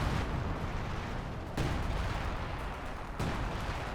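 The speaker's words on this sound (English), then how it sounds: "Major called on artillery. Good artillery strike." An artillery strike in Company of Heroes 2, a rumbling barrage of heavy booming impacts that continue without a break, with sharp new blasts landing at regular intervals, loud and dense.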